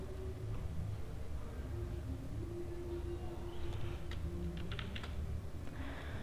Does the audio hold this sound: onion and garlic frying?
no